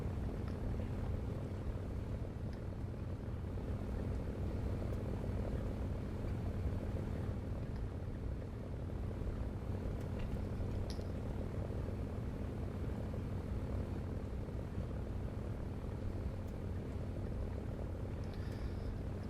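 A Focke-Wulf Fw 190A piston engine drones steadily in the War Thunder air sim, a constant low propeller hum with no talking.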